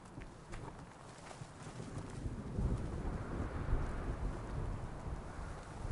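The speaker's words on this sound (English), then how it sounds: "Storm. It's easing up." Storm weather in the video game Horizon Forbidden West: steady wind and rain noise builds gradually, a broad continuous rumble with no clear thunder cracks, heard alone without talk.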